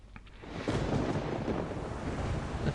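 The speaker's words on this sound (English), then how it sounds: "that's the first time I've had lightning when I go into a game." Thunder in a video game rolls in as a broad, rumbling roar that swells after a quiet start and holds steady, close and full, with no voices.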